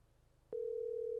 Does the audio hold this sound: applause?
no